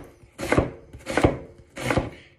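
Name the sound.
knife slicing onion on a board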